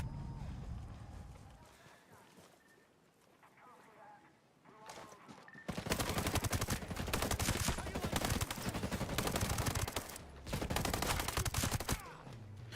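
Rapid gunfire fills a Ghost Recon: Breakpoint firefight, with dense bursts of shots and automatic fire dominating after a quieter stretch at the start, while players talk over the action.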